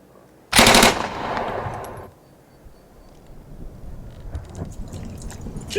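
Gunfire erupts as a loud, close burst of rapid shots that fades into a rumbling tail lasting over a second, then gives way to quieter scattered crackles and ambient noise.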